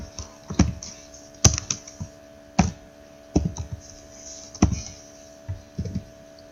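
Keyboard typing while writing HTML code, sparse separate key clicks and short bursts at an unhurried pace, close and clear over a faint steady hum, with no talking.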